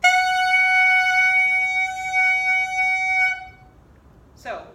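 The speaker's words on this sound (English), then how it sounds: "if playing just in the mouthpiece, it should be about an F sharp." A clarinet mouthpiece blown on its own sounds a bright, steady reedy tone of about F sharp for over three seconds, then stops, followed by a brief breathy noise.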